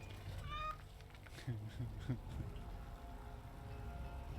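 A cat named Sir Bounce-a-lot meows in the Dragon Age Origins: Awakening video game, a few short, rising meows near the start over a steady low game ambience, with no talk.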